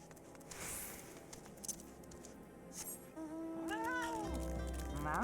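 A small, slow, stodgy cat in Final Fantasy XIV gives a rising and falling meow near the end, over a faint buzzing ambient game background.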